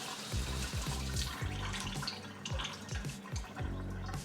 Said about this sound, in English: let the water drain all the way out until you see it come out of the drainage hole